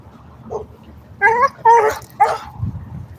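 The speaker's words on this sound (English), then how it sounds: "Stop. Another dog." A dog on a neighbourhood walk gives three loud, close barks in quick succession, with a soft yip just before and low background noise afterward.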